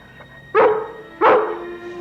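Two loud, close barks from a collie, spaced about half a second apart, with a low steady hum underneath and no talking.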